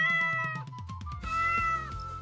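A cat meows repeatedly, several close, clear tonal meows in quick succession, the later ones longer and drawn out, with no talk.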